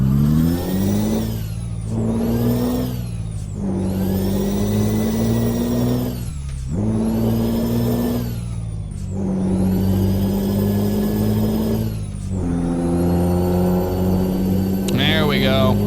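Truck engine in Euro Truck Simulator 2 revving hard while climbing a hill, rising and falling through repeated gear shifts with loud, steady drones between each double-clutch change.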